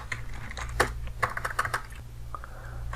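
Quick, uneven keystrokes on a computer keyboard as a password is entered at a Kali Linux sudo prompt, close and clear over a steady low hum, with a short pause before a final few taps.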